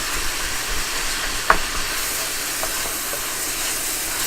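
Ground beef sizzles steadily in a hot pan while a wooden spoon chops and crumbles it, a continuous frying hiss with a single sharp scrape of the spoon partway through.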